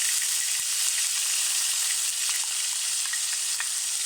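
Chopped onion sizzles steadily in hot lamb oil in a pan, a continuous close crackling hiss with small spitting pops throughout.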